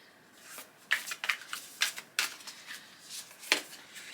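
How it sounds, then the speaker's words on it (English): A deck of tarot cards is shuffled by hand in a series of quick riffling bursts and soft taps, irregularly spaced and close, with quiet gaps between. "I'm just going to give these a shuffle too"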